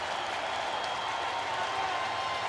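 A sellout crowd at a St. Louis Cardinals baseball game on a sunny Sunday roars and claps in a dense, sustained wash of cheering and applause, broad and distant-sounding, with no single voice standing out.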